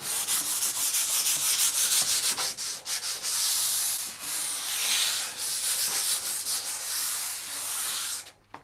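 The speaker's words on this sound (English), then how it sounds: "So I'm just going to sand really lightly." Light hand sanding between paint coats makes a close, continuous scratchy rubbing in quick back-and-forth strokes with brief pauses, stopping near the end.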